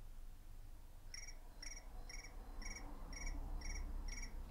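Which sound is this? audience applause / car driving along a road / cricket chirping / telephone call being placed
cricket chirping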